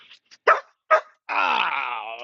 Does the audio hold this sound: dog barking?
yes